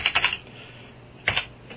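Fingers typing on a computer keyboard while writing PHP code: two short, close bursts of a few quick keystrokes each, separated by a brief pause, with no talk.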